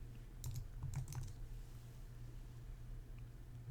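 Computer keyboard keys are typed in a brief burst of soft clicks near the start, then fade into a quiet room hum with no speech.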